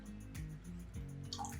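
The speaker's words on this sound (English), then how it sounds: "we're gonna pour off all the water into the pot" Beet brine water poured off into a pot, heard as a brief, quiet trickle with a few drips and splashes, close by.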